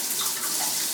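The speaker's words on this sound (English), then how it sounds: "I'm gonna take as long a shower as I want." Water runs steadily from a household shower, a dense, close hiss of spray with no breaks or voices.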